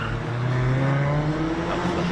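Mercedes cars race along a rally stage on the Strathalbyn town stage, a loud, sustained engine drone with steady harmonic pitch as a car accelerates past, fairly close and without talk.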